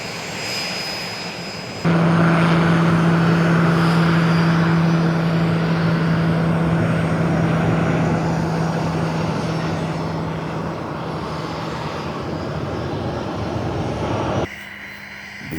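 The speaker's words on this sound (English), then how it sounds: "It was time for the A-29 Tucano to embark on a mission." An A-29 Tucano turboprop's engine drones loud and steady as the propeller aircraft runs up, a strong continuous roar with a tonal hum that holds for most of the stretch before it drops off abruptly; no voices.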